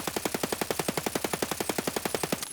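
An AK rifle in Escape from Tarkov fires a long, steady full-auto burst of rapid, evenly spaced loud shots lasting a couple of seconds, with no talk over it.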